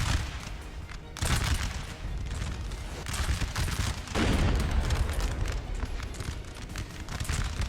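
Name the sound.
gunshot in the video game Napoleon Total War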